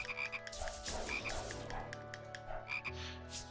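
Frogs croaking in the video game Touhou: Scarlet Curiosity, a few short croaks in quick succession over game music, fairly quiet.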